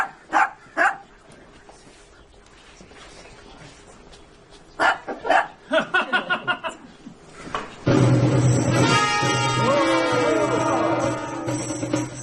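A dog squares off with a tortoise in a backyard, yapping in short bursts with quick runs of sharp barks, then growling and whining more continuously near the end.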